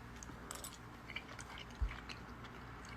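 Soft, wet chewing of a flour tortilla enchilada, quiet squishy mouth sounds close to the mic with a single faint bite thump partway through.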